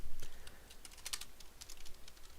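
Rapid key clicks on a computer keyboard as a console alias is typed for a Team Fortress 2 script, a close, dry burst of irregular taps with one dense flurry partway through and no voices.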